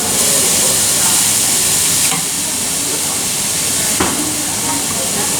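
Noodles tossed into a sizzling wok stir-fry with lettuce, carrots and onion at a Beijing night market food stall. A loud, continuous hiss and crackle of frying, close up, with a couple of brief clanks partway through.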